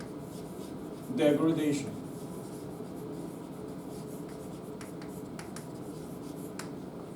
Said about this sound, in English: we're going to write here